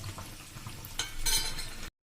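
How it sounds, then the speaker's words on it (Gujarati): Bread bhajiya fries in hot oil, a gentle sizzle with soft stirring and turning clinks that swells into a brighter crackle near the end before cutting off, with no voices. "અને તમે આવી રીતે ટર્ન કરીને પણ આવી રીતે હળવેક દઈને કેર કરીને આ રીતે પણ ફ્રાય કરી શકો છો"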